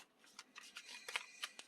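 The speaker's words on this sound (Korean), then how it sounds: "카드 좀 섞고" Tarot cards shuffled by hand, a brief run of soft riffling flicks and snaps, close and quiet, with no speech.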